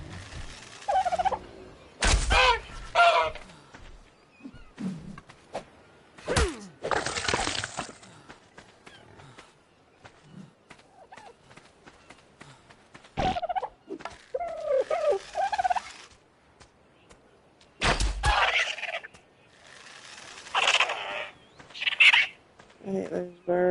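Birds in the video game Ark Survival Evolved give gobbling, squawking calls in loud bursts separated by quieter gaps, with sharp impacts and game noise mixed in and some talk over parts.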